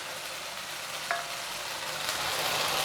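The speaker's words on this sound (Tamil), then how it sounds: "இப்போ நான் வந்து இதை இந்த மசாலாவில் சேர்த்து ஒன்றா கலரி விட்டுறேன்." Fried egg being stirred into a spicy masala for egg manchurian, a steady soft sizzle and scrape throughout with a brief clink of the spoon, no talking.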